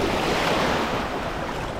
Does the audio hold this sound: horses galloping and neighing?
no